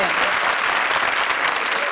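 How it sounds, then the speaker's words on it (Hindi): A studio audience claps loudly and steadily at a televised Hindi comedy show, dense applause filling the whole moment with no pause. "तालियां"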